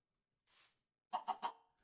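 Chickens in the Minecraft Skyblock video game make a faint short call, then three quick clucks in a row and a last clipped squawk, with no voices.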